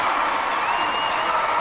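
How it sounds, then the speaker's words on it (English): Steady crowd roar with scattered cheering and applause fills a stadium during a track race in the London 2012 Olympic Games video game, a continuous even wash with no clear peaks. "the crowd are doing their bits, plenty in to try and encourage success for this athlete"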